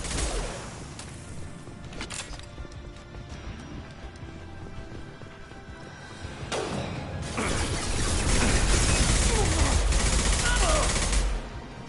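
Mass Effect 2 gunfight with dense, overlapping bursts of gunfire and impacts, building in intensity toward the end, with game voices and effects mixed in.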